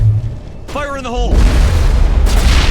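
A grenade goes off in the video game Mass Effect with a loud, deep boom that swells into a sustained rumbling blast, following a character's shouted line.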